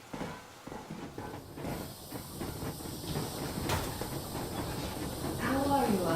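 A steam train in the video game Metro Exodus pulls out at full steam with a continuous hissing, rumbling wash that builds steadily and turns louder near the end, while voices talk faintly underneath.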